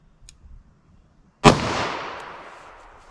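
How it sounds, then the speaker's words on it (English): A single sharp .38 Special revolver shot from a 4-inch barrel fired into layered denim, loud and close, with a long ringing decay after a quiet lead-in. "We can go through the 4 layers of denim here and try to make a good shot and see what we get with 38 special."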